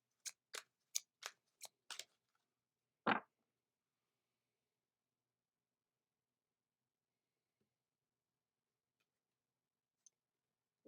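Angel Answers oracle cards shuffled in a quick burst of about seven crisp riffling slaps, then one firmer card snap and near silence.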